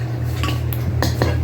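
Homemade clay being stirred in a bowl, a few scattered clinks and scrapes of utensil against the bowl over a steady low hum.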